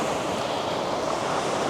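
Big waves break steadily on a Loch Ness beach, a continuous close roar of surf washing in with wind noise over it and no voices.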